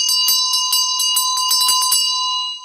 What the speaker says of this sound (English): So then we ring the bell